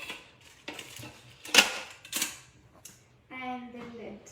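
Metal and plastic clinks as the lid goes onto a Magimix Cook Expert steamer, a few close, sharp clattering taps, followed by a voice speaking.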